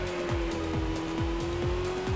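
A car in Gran Turismo 4 launching in second gear with wheel spin, the engine droning steadily with a sustained tone while repeated rhythmic squeals from the spinning tires sweep down every half second.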